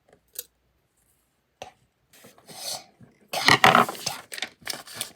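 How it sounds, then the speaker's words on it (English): Scissors snipping through paper or cardboard while a homemade pop-it shape is cut out, a few isolated snips at first and then a busier run of close, crisp cuts and rustling. "And we're going to go ahead now and cut this out."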